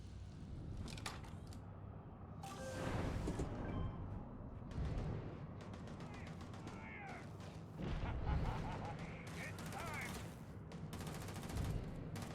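Gunfire in the Starfield video game: rapid bursts of shots, some in quick fusillades, sound over continuous background game noise, with a voice occasionally speaking.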